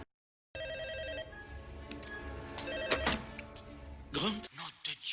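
A telephone rings with repeated electronic trills in a Jurassic Park scene, dubbed in French. The ringing sounds fairly close and is overlaid with a voice and background music.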